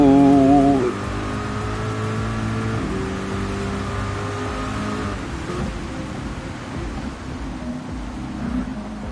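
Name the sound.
race car accelerating on wet Suzuka track in a video game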